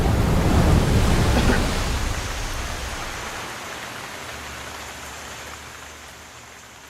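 Heavy rainstorm from The Legend of Zelda: Breath of the Wild, a dense hiss of rain with a low rumble, loudest at first and then easing off and fading as the storm ends.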